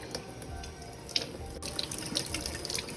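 Tap water running over lemongrass roots as dirt is rinsed off, a steady splashing stream with sharper drips and clinks from handling in a sink, fairly quiet and without speech.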